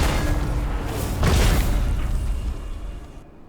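A bomb explodes in a video game with a single deep boom about midway, then a long rumbling tail that slowly fades to silence.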